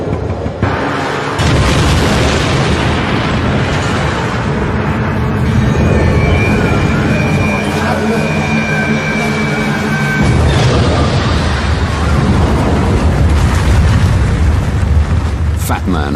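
Fat Man atomic bomb exploding over Nagasaki: a sustained, loud rumbling boom with a deep low roar rolling on for many seconds, swelling again partway through under dramatic background sound.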